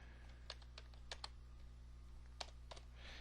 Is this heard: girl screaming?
no